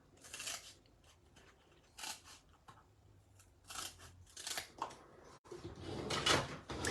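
Scissors snip through a piece, cutting it into thirds: several crisp, close cuts in irregular bursts, with soft handling rustle between them and a louder clatter near the end.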